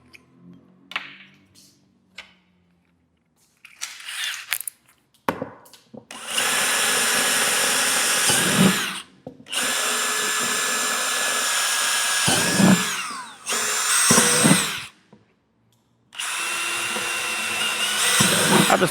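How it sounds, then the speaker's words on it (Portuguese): In a woodworking shop a power drill bores a hole, then a tico-tico jigsaw cuts in several long, loud buzzing runs separated by short silences, with some light handling clatter before the tools start. "a gente vai fazer um furo aqui e cortar com a nossa tico-tico"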